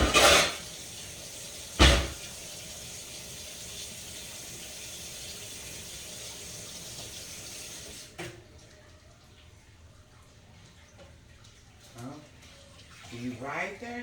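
Metal pots being put away by a kitchen sink, two sharp clanks near the start and later softer scattered knocks and scrapes, with running water and a voice talking in the background.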